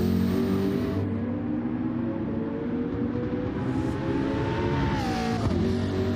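A Gran Turismo 7 race car in a GT lobby at Interlagos drones loudly on its engine, then revs sharply as it drops into first gear for a downhill left, a brief tire squeal near the end.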